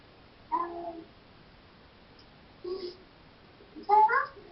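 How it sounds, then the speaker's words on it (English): A cat meows three times with pauses between the calls, the last the loudest and most drawn out, heard indoors and fairly close against a quiet background. "There must be a cat."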